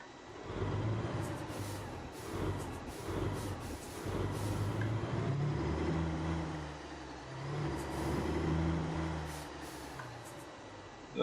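Truck driving in the game Alaskan Road Truckers on a winter road, a low rumbling engine drone with rolling swells and faint rattles, steady and fairly quiet, no talking.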